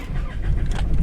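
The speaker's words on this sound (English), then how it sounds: "Let's get the engine started." A 4WD engine turns over and catches, settling into a steady low idle for about a second, loud and close, with no talk over it.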